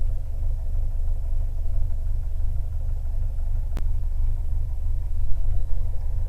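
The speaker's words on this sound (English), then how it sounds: "we're flying with this 180 horse engine now" A CubCrafters Carbon Cub SS aircraft's 180 hp engine idles as it warms up, a steady, close, low rumble with one sharp click partway through.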